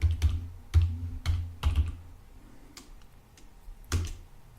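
Keys clack on a computer keyboard while a Linux terminal command is typed: a handful of crisp, irregular strokes, close and clear, with a firmer final press and no talk.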